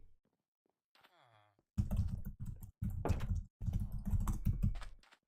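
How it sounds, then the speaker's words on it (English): Aggressive typing on a computer keyboard, loud dense bursts of rapid key clatter in several clusters after a short quiet stretch. "Aggressive typing"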